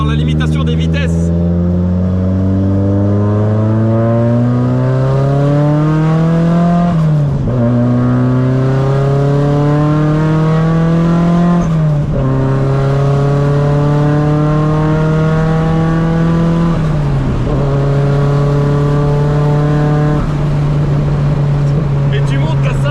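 A 500-horsepower Nissan S14 drift car engine revs hard and loud, climbing through repeated rising pulls with sharp drops between, for about twenty seconds on a closed road.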